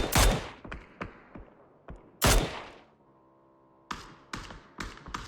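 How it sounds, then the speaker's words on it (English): Gunfire crackles in a PUBG esports match at a DreamHack qualifier, with several sharp shots spaced irregularly, two loud close bursts and fainter distant pops, plus a brief tonal hum between them. "Got another couple of shots going out here, specifically from Team 5 and Marv."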